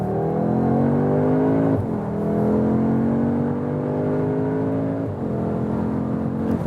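An Audi S3 Sportback accelerates out of a corner on a test track, its engine note rising steadily through two gear changes, heard loud and close from inside the car with no talk.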